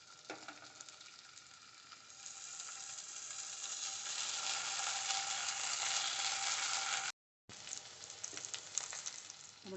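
Paneer tikka fries in a little oil on a tawa, a close and steady sizzle that swells and then drops out briefly before resuming with light crackles, and no voices over it.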